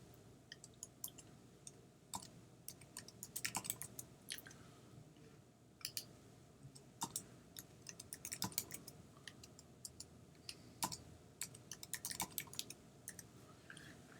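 Passwords are typed on a computer keyboard, giving a quiet, close run of irregular key clicks in short bursts.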